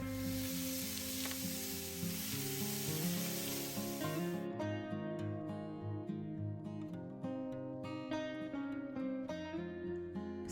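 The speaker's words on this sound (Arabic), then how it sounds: "لهنا باش نشوي اللحم خذيت شوية زيت زيتونة وملح" Meat grilling in a pan with olive oil and salt gives a steady, fairly quiet sizzle that thins out about halfway, with tonal background sound underneath.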